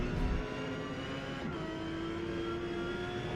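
A Porsche 911 GT3 race car in Forza Motorsport, S class at Mugello, holds a steady, loud engine drone with a sustained tone, like an in-car view at speed.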